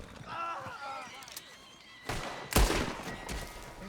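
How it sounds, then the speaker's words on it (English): Gunfire from a non-player character in Red Dead Redemption 2: a couple of sharp shots burst out near the end, the second loudest, after a stretch of quieter in-game ambience with a voice talking. "you just tried to shoot me"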